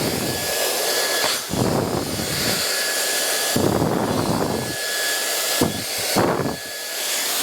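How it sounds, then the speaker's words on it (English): A hair dryer blow drying a client's fringe from behind, a loud close steady whoosh whose tone shifts and dips repeatedly as the airflow is moved through the hair. "I would never normally blow dry a fringe from behind the client"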